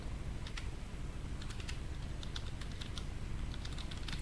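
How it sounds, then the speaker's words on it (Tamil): Keys clacking on a computer keyboard while entering data into an Excel spreadsheet, with close, irregular bursts of taps and no talking. "இங்க என்ன இருக்கோ அதை டைப் பண்ணிக்கிறேன்"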